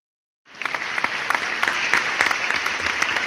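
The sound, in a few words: applause sound effect on radio show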